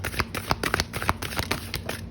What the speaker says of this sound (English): Let me shuffle one more time.